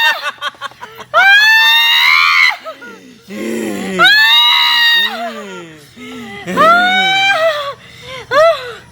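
A person screams loudly and repeatedly in a Maithili comedy sketch about a bride possessed by a ghost, with long wailing shrieks rising and falling over about nine seconds, broken by short gaps and a few spoken bits.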